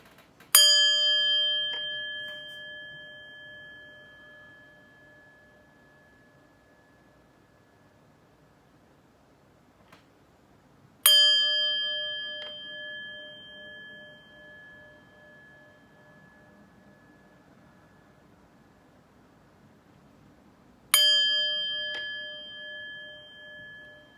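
Three bright metallic chime strikes, each ringing out with clear harmonic tones and a long fading decay, spaced roughly ten seconds apart, alone over a quiet background.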